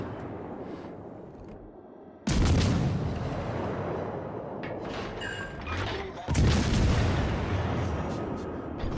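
Heavy naval guns boom from enemy battleships in a video game, two loud, close blasts each followed by long rumbling roar and debris-like noise.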